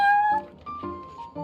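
A cat in the Genshin Impact video game, heard at the Cat's Tail, gives a few short, clear meows at close range, with brief pauses between them.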